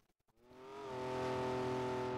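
Porsche 917 race car in Gran Turismo 7 at Spa, engine note rising steadily from near silence into a loud, sustained high-revving drone with strong harmonic whine, alone with no talk.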